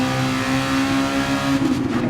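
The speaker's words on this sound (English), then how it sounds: "Red Bull X2014 Junior. A really fun car to race with." A Red Bull X2014 Junior race car in GT Sport roars steadily under load, a loud, sustained engine drone with a brief wavering rise toward the end, no voices.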